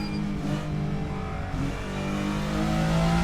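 Twin-turbo 2.6 litre V6 of a sim-racing hypercar revving steadily and close, a continuous mid-pitched engine drone that holds its level throughout with no one talking.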